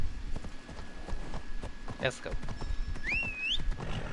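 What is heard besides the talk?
horse galloping in the video game Assassin's Creed Odyssey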